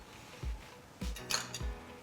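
Grated ginger is scraped into a bowl of tandoori chicken marinade: three soft, dull thuds about half a second apart, with light clinks of utensil against the bowl, close and quiet.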